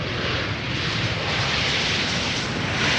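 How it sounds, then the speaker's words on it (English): Airliner landing at Amsterdam Schiphol Airport, a steady broadband jet roar held at constant loudness throughout, heard alone without voices. "A very polished landing there."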